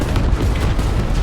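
Enemy tank cannon in the War Thunder video game, a loud, dense low boom that fills the whole moment with rumbling blast energy and no clear separate shots.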